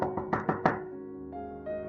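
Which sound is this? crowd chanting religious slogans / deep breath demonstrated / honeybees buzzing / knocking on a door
knocking on a door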